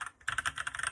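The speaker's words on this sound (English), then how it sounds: "sounds like a normal mechanical keyboard" Typing on a GK61 60% mechanical keyboard: a quick burst of close, crisp key clicks in a fast, even rhythm after a brief pause.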